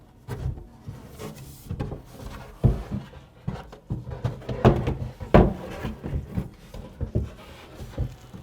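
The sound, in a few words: wooden shelf being installed in a cabinet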